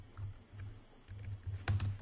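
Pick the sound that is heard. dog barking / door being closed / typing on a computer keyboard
typing on a computer keyboard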